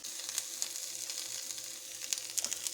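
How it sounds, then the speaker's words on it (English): Onion sautéing on a hot griddle, a steady soft sizzle with small crackling pops scattered throughout, fairly quiet and close with no talking. "And now I'm just sauteing some of that onion a little bit, just to give it a little bit of a color"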